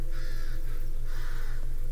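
Haunted crows on a mansion roof in a Scottish indie video game, cawing in two harsh, loud bursts over a steady rhythmic low drone.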